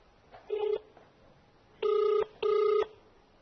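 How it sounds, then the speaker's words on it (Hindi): Outgoing call ringback tone while phoning Congress MLA Bandhu Tirkey, one short buzzing ring burst followed by a pause and two longer, evenly spaced rings, clear and alone. "इनको फोन लगाते हैं कि ये क्या कुछ करते।"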